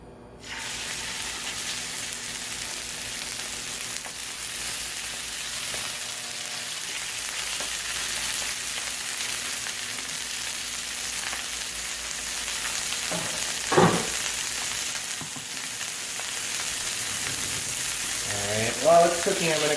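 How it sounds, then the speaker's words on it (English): Chicken sears in hot oil in a pan, a steady loud hiss of sizzling that holds for a long stretch, with a few brief clinks and a short voice near the end. "I'm going to heat up some oil, I'm going to sear each side of the chicken"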